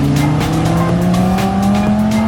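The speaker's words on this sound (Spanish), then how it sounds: "Miren ese Lamborghini." A Lamborghini sports car drives past up close on a city street in Mexico, its loud engine note sliding in pitch with a brief tire squeal, set against steady traffic noise with no talking.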